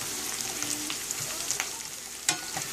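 Almonds and pine nuts frying in hot oil, with a dense, steady sizzle and faint stirring scrapes, plus one sharp clink near the end, close and without talk.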